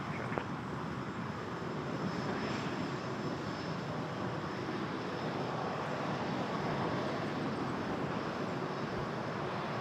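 An Etihad airliner taxiing across runway 06 left at Toronto Pearson airport gives a steady, unbroken jet engine roar at moderate distance, with no voices.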